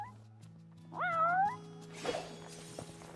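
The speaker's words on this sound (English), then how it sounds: "Oh, there's a cat, though." A cat in Final Fantasy XV gives one clear, rising meow over a low steady game hum, followed by soft scuffing and faint thuds.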